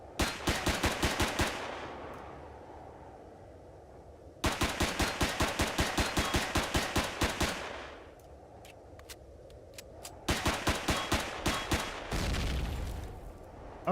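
Automatic gunfire in the space survival game Empyrion, rattling off in three long rapid bursts with short pauses between them, loud and close with a booming low end.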